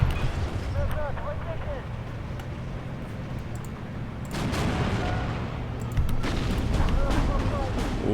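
Battlefield gunfire and artillery booms rumble through a Steel Division 2 multiplayer partisan uprising match, with dense overlapping shots and heavier bursts swelling in the second half, while someone talks over the din.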